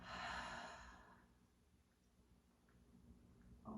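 A soft, breathy exhale during yoga breathing, one long audible out-breath at the start fading to quiet, then a faint inhale near the end; close and gentle with no speech.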